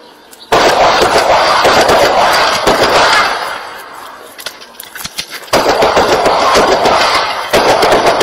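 Rapid automatic gunfire bursts from a firearm during a shooting drill, loud and close, with a sustained string of shots, a pause, then more rapid fire; a malfunction interrupts the weapon.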